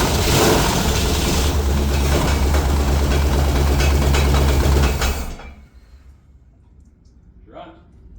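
A Buick 455 V8 engine cranks without firing, a loud steady churning drone for about five seconds that then cuts off, leaving near silence with a faint sound at the end.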